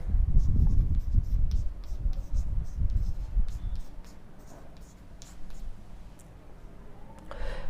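Pen scratching numbers by hand onto paper, a series of short scribbled strokes that is louder at first and fainter toward the end, with no talk.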